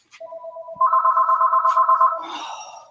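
A home landline telephone rings with a steady electronic warble, two bursts close to the mic and loud, before a brief rustle and a soft voice-like murmur at the end.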